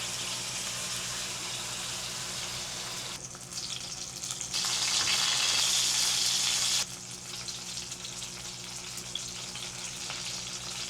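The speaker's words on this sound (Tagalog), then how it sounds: "Piprito muna ako ng talong guys." Eggplant frying in hot oil in a home kitchen makes a steady, dense sizzle that swells louder for a couple of seconds in the middle, then settles back to a constant crackle.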